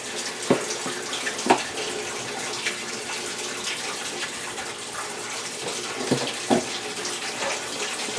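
Tap water gushes steadily into a tub to start a load of laundry, a continuous close rushing flow with a few soft knocks and splashes.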